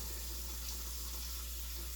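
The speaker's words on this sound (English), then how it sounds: "I'm going to put this in the sink and get this soaking. Cold water only to soak." Cold water runs steadily from a tap into a sink for soaking soap-making gear, a faint, even hiss of flow that continues without change.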